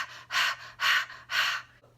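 Three slow, deliberate breaths, each an airy rush swelling and fading, close to the microphone, with a faint low hum underneath and a softer fourth breath at the end.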